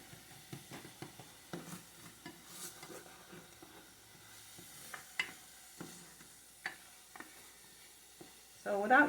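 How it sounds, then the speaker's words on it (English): Vegetables and ginger sauté in a dry pan with no oil, giving a faint, intermittent sizzle broken by scraping stirs and occasional clinks of utensil on pan, ending in a louder burst of sizzle. "So without using oil to saute, you save yourself a little, fat there"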